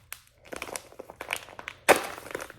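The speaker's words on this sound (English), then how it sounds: "so you can just rip it off from there" A packet of crystal glow powder being ripped open along its slit, with crinkling plastic handling and one loud tearing burst near the end, close and fairly quiet.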